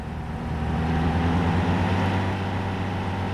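Steady low engine drone of a car driving in the survival game Mist Survival, a continuous humming rumble with no breaks, fairly loud throughout.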